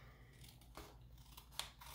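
Scissors make a few faint, close snips while cutting a paper envelope, with one slightly sharper click among quiet rustling.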